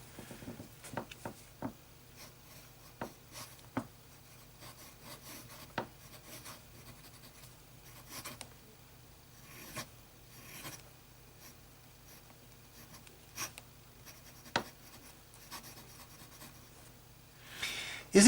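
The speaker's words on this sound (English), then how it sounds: "Is it just me, or is every pen skipping more than usual?" A pen writes on paper in a quiet room, steady soft scratching broken by scattered sharp ticks and brief gaps where the ink skips. Strokes come irregularly over a long, faint stretch with no voices.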